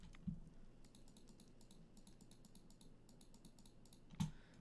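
Rapid computer mouse and keyboard clicks come in quick runs while blocks are placed in a game, close and crisp, with two louder knocks against a quiet background hum.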